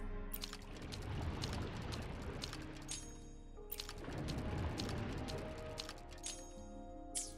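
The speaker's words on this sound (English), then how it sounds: "The water level has dropped." Water drains in Wuthering Waves with two broad, rushing swells of churning liquid, each building and then easing off, fairly soft overall.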